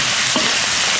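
Chicken feet sizzle loudly in a wok with soy sauce while being stir-fried, a steady, close hiss of hot oil with a brief scrape of stirring.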